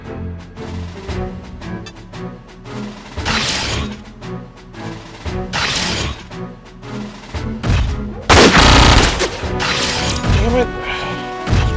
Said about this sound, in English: Alright, so we run over here and attack with our shotgun.